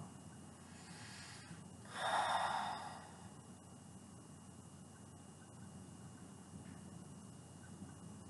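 A single deep, audible breath drawn into the lower belly during a Nei gong exercise swells for about a second near the start, then gives way to quiet room tone.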